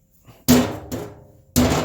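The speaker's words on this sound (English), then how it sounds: "I'm hammering on the side that I want to move" A hammer strikes a metal tool chest panel backed by a dolly, three loud ringing blows in a slow, uneven rhythm, close up with no talk.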